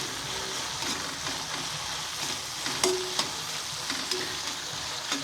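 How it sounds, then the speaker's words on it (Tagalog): Tomatoes sauté in a hot pan with a steady crackling sizzle, punctuated by a few sharper spatters and stirring clinks, close and continuous with no speech. "Lutuin lang po natin kamatis. Tapos igigisa rin po natin itong Mega Sardines."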